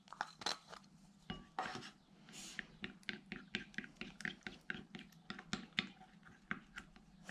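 A glue-free slime mixture is stirred in a bowl, with a string of quick, faint clinks, taps and scrapes in a steady irregular rhythm, close up and with no talking.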